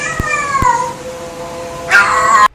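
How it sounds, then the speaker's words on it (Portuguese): A cat caterwauling nearby: a drawn-out, wavering melancholic yowl, falling in pitch, then a brief harsher, louder cry at the end, with two small knocks near the start. "A vocalização número 5 é o caterwauling."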